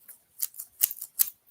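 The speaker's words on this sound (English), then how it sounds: "I love these scissors because they actually are collapsible." Collapsible folding scissors handled in several quick bursts of crisp metallic snips and clicks, close and fairly quiet with short gaps between.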